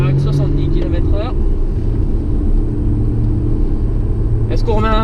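Porsche Cayman S engine running on a race circuit, a loud continuous drone heard from inside the car, with voices talking over it at the start and end.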